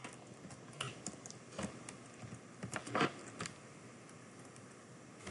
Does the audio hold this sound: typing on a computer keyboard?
yes